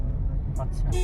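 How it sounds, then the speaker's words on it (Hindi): Cars in a Delhi traffic jam, heard as a steady low rumble of idling and crawling engines close by, with brief higher hiss and horn-like tones near the end. "दिल्ली और दिल्ली की ट्रैफिक, ये सब अभी यहीं पे देखने को मिलेगा।"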